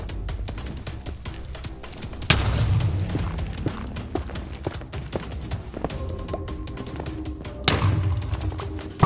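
End crystals blowing up in Minecraft after being shot with a bow, heard as two loud booming blasts several seconds apart over a steady background of game sound.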